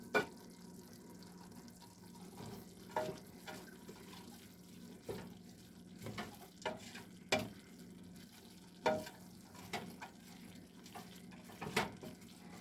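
Hamburger meat and onions frying in a pan, with a faint continuous sizzle broken by scattered scrapes and clicks from stirring, heard up close and without any talking.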